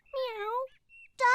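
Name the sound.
child imitating a tiger growl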